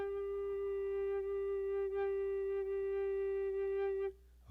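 A sustained D note sounds on an F alto recorder, one clear steady tone held about four seconds and then cut off, with no talking.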